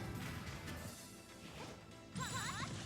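Zelda's forward smash attacks clashing in Super Smash Bros, a few quick crashing hits with swishing flourishes and a bright sparkling burst near the end, faint in the mix.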